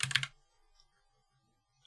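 A short burst of quick keystrokes on a computer keyboard while typing a search, close and crisp, then near silence.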